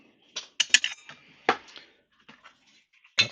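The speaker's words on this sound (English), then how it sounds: "cut back the plastic" Small clicking and snipping sounds from cutting back the melted plastic housing of an electric weedkiller, several sharp, close ticks in an uneven rhythm with short pauses between them.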